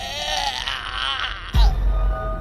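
A wavering, anguished scream from a narrated horror story, drawn out for about a second and a half before a deep low thud cuts in as it fades into darkness.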